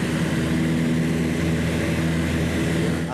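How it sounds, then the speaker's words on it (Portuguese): A propeller airplane takes off from the Aeroclube de São Paulo in the north zone of São Paulo, its engine droning loud and steady with a strong, even hum throughout and no voices. "mais um avião levanta voo"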